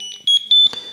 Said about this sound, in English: It's now just beeped at me to tell me I'm off course.